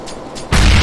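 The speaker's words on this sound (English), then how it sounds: "Throwing a grenade. Grenade out." A grenade bursts on the Counter-Strike Inferno map: a sudden loud, sharp explosion cuts in halfway through after a quieter stretch of game ambience, then rings on with a broad roar.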